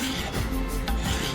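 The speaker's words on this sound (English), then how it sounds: "just laying it on there and then just scraping it off" Old adhesive being scraped off an Ender 3 3D printer bed, a steady close rasping rub with slight strokes throughout, no talk.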